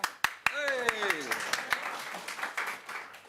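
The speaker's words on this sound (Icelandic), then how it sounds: "Og við klappum." Scattered, sparse hand claps ring out in a meeting room at a town youth council's spring session in Reykjanesbær, a few sharp slaps with a voice speaking over them.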